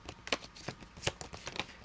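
A tarot deck being shuffled by hand, a few soft, close riffling snaps and papery slaps spaced irregularly, fairly quiet.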